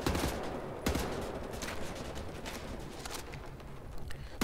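Gunfire at a Nazi enemy in a shooter video game: a run of sharp shots, with distinct bursts early and again near the middle and end, over a fairly quiet, busy game background.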